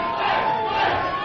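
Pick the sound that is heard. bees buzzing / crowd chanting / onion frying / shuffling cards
crowd chanting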